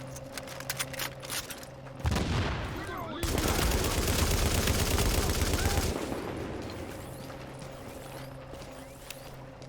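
Sustained automatic gunfire rattles in the video game The Division as a player shoots at enemies, a dense burst of several seconds rising over a steady background hum.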